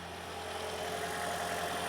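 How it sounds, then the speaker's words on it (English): A Toyota Prius engine idles with a steady, even hum and faint vibration, continuous and unchanging, heard close with no talk. "So as you can hear, the engine is running"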